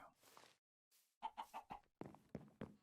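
Chicken in the video game Minecraft Sky Factory 3, a run of short clucks in quick bursts with brief pauses between them, close and clear with no talking over it.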